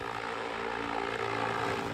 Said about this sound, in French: c'est bien une soucoupe volante qui sillonne chaque jour le ciel en vol test